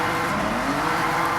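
A Porsche 911 Leichtbau races in Forza Horizon 6, its engine a steady, loud drone with a faint rising pitch. Tire noise runs beneath the engine, and no one speaks.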